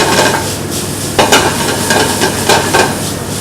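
A spoon stirring and moving food around in a sizzling pan, with steady frying hiss and irregular scraping clinks against the metal, loud and close.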